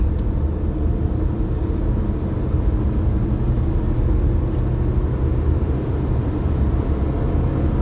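Steady, loud road rumble from inside a car cruising on the interstate, a continuous low drone of engine and tire noise with no speech.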